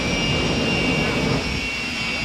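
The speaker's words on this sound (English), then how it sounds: "what we're going to do is run the jet" A jet dragster engine runs at Santa Pod Raceway, a steady, loud broadband roar holding for the whole stretch with a thin high whine riding on top, no voices.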